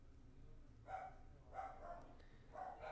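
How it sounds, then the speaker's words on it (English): Three short clusters of dog barks, muffled and faint as if from another room, come at roughly even intervals over a low steady background hum. "Is that my dogs barking? Yeah, that was my dogs barking."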